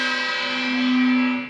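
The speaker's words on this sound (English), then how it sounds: "we'll get more aggressive. And hopefully that's all you hear of the gong today." A gong struck more aggressively rings out loud and bright, a rich sustained metallic tone with many overtones that swells slightly before fading.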